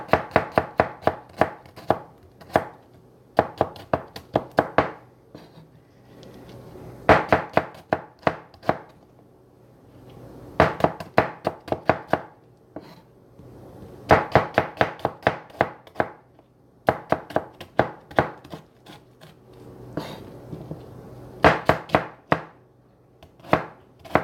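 Rapid knife chopping and shredding of food on a board, coming in repeated quick bursts of sharp taps separated by short pauses, close and clear with no talking.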